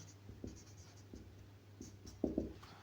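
A pen writes on a board while working a calculus limit problem, faint scratchy strokes in short irregular bursts, with the final strokes slightly sharper and louder.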